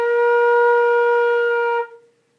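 A flute sustains a single clear B flat note, steady and rich in overtones for under two seconds before stopping cleanly, close and loud with no other sound.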